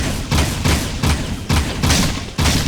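The favorite go-to weapon in Jak II fires in a steady, rapid burst of about six loud, punchy shots, close and evenly spaced with no talk.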